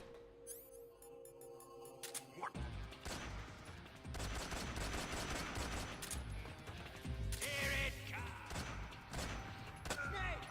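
Gunfire in the stealth game Metal Gear Solid 3 during a speedrun, a few loud shots and crashing impacts over game music and effects, with a voice talking briefly.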